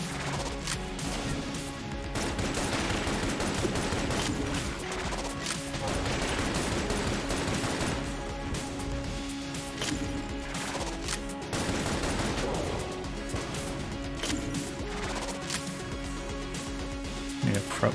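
Dense, continuous barrage of oversized bullet fire from Enter the Gungeon, with crashing impacts and rapid shots layered without a break, while a voice talks over the action.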